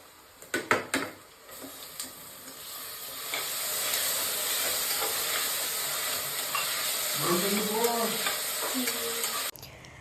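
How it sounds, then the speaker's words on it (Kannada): Onions and tomatoes sauté in a pan for veg biryani, a steady close sizzle and frying hiss with stirring scrapes and a few sharp clinks of the utensil against the pan near the start. "ಅದಾದಮೇಲೆ ಟೊಮೊಟೊನ ಹಾಕಿ ನೀಟಾಗಿ ಬಾಡಿಸ್ಕೊಳ್ಳಿ"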